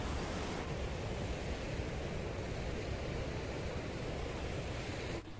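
Surf rolls onto a clear-water beach in Bali, Indonesia, as a steady, dense wash of broadband noise that hardly changes over the seconds, with a possible touch of wind, heard fairly near and with no voices.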